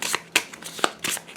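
A deck of cards shuffled during a tabletop game, three or four quick riffling bursts close up, crisp papery flutters with short gaps, no talking.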